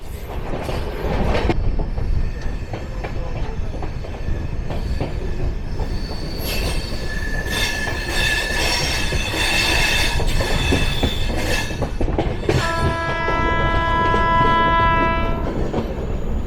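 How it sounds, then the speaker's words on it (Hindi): The Kota Jan Shatabdi express speeds away from Bharatpur, a loud, close roar of rushing railcars with rattling wheels, high squealing tones and a sustained multi-tone horn blast near the end. "दोस्तों कोटा जनशताब्दी जो है निकल ली है भरतपुर से रफ्तार बढ़ाते हुए।"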